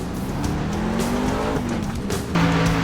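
A race truck in the DRL Winter Series at Homestead brakes hard, its tires squealing in long shifting whines over a continuous engine roar, with the pitch of the squeal jumping near the end.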